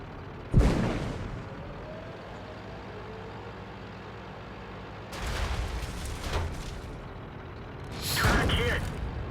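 Tank cannon fire in the World of Tanks video game, heard as three heavy booming shots spaced several seconds apart over a low, rumbling engine drone, with a voice speaking in between.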